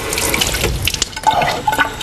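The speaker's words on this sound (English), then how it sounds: "we'll take some deionized water" Deionized water splashes and trickles steadily from a bottle into a container at a laboratory bench, close and clear with no talk over it.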